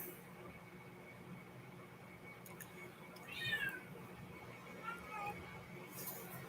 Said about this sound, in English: Sounded like the cat just said Rutro.